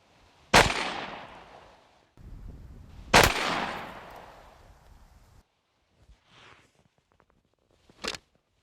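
A 12 gauge shotgun fires two loud, sharp blasts at a pumpkin outdoors, each followed by a long echoing rumble, then a quieter thump and a final crack.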